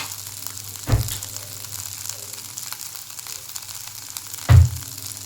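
Corn chivda sizzles in a pan with peanut powder while being sautéed, a steady frying hiss broken by two louder scraping stirs of a spoon.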